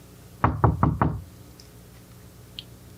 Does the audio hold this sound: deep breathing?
no